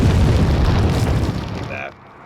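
A grenade blast from Resident Evil 4 erupts as a loud, close, broadband boom that rolls on for over a second before fading into a brief settling rattle.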